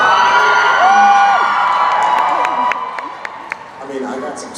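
A live convention audience cheers and screams loudly, with whoops and high shrieks rising over a roaring crowd, then thinning into scattered claps and yells.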